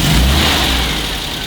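An MGB GT engine running loud and close, a steady throaty mechanical roar that holds through the whole moment without a break.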